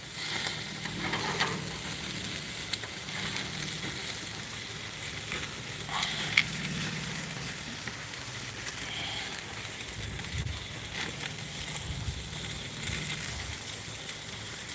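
Ribeye steaks sizzle in a pan over a gas burner during a long cook, a steady close crackle and spatter running throughout with occasional louder pops and no talk.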